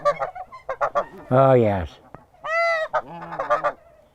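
Geese honking nearby at a nesting spot, a few loud harsh honks in separate calls, with a person briefly speaking among them.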